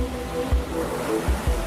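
Storm waves from Storm George surging around a ship and bridges, a steady roar of surf with heavy low thumps of water breaking every second or so.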